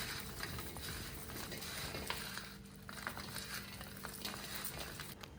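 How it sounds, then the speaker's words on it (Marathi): Mango pickle ingredients are stirred together with salt in a bowl, giving soft, irregular scraping and shuffling with faint clicks of a spoon, quiet and close, with no talking. "तर हे सुद्धा मी त्याच्यात टाकून आणि सगळं एकत्र मिक्स करून घेणार आहे"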